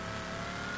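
A drift car in a racing video game holds a steady, loud engine drone with a bright whine on top, unbroken through the brief moment.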